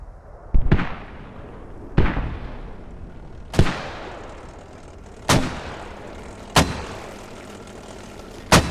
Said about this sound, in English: We are taking a look here at the Russian mortars currently supporting the 7th Rangers attack on Sablia.